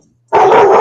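An excited dog lets out one sudden, loud, close bark or yelp right after near silence, sustained briefly and cut off at the end.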